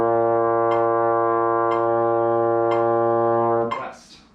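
Beginner's trombone holding a steady, loud four-beat B flat, firm and unwavering, with faint clicks on each beat before the note cuts off and a breathy release follows.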